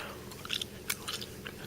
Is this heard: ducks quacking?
no